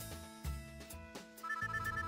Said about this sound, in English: I turn off the TV just as my phone starts ringing